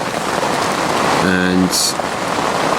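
Steady rain falling during an autumn storm at a fishing spot, a broad constant hiss close by, with a brief tonal beep and a short sharp noise partway through and a voice saying a word.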